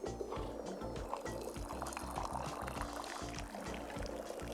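Tea poured from a pot into a cup in the video game Wanderstop, a soft continuous liquid trickle under steady background game music.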